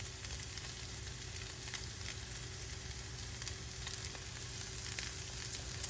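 Soy sauce glaze sizzles steadily in a hot pan with noodles, scallions, cabbage and beef, a close, continuous crackling fry with no voices.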